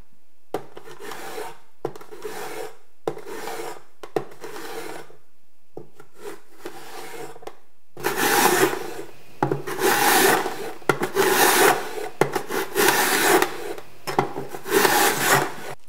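Vegetables being shredded for egg rolls: rough, raspy rubbing strokes in short bursts, then longer, louder continuous scraping, close up with no voices.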